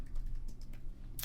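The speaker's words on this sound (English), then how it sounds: "I'm just like typing the wrong thing in the wrong window" Rapid, uneven keystrokes on a computer keyboard tap close and clear, a short burst of typing with no talking over it.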